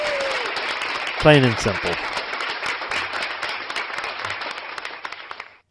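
Applause from a small crowd, a burst of clapping that swells early and carries on steadily for several seconds before cutting off, with a voice briefly heard speaking at the start.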